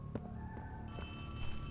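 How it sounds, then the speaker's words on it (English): A telephone rings in Poppy Playtime 3, a faint repeating electronic ring in a quiet game scene with low ambient hum. "Now they hear a phone."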